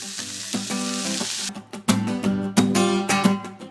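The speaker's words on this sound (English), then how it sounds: "we're gonna drop our Cajun garlic toast, butter and seasoning side down on the griddle top" Cajun garlic toast slices, buttered and seasoned, sizzle loudly face down on a blazing-hot Blackstone griddle, a steady hiss broken by several sharp bursts as pieces land and shift.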